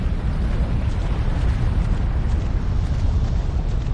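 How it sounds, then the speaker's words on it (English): A volcano erupts in Ark Genesis: a steady, loud, deep rumbling roar holds for the whole stretch, with no distinct separate bang standing out. "That bang was the volcano."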